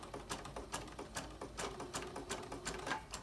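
A sewing machine stitches the hem of a shortened store-bought curtain, its needle thumping in a fast, even rhythm over a low motor hum, close and fairly loud with no talking.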